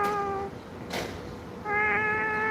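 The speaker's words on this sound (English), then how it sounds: "Oreo was just crying oh so sadly inside of the cat carrier." Oreo the cat cries inside a carrier with two drawn-out, plaintive meows, separated by a brief rustle, close and clear.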